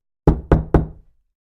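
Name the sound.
knocking on a door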